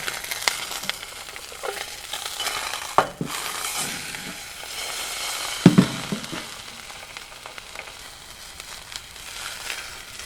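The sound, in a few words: food frying and sizzling in a seasoned cast iron skillet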